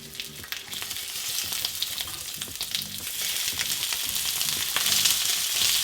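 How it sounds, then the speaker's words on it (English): Shrimp searing in olive oil in a pan, a loud continuous sizzle and crackle that swells slightly over time, with faint rhythmic background tones and no talking. "We have this pan going, olive oil. Gently sear the shrimp for about a minute."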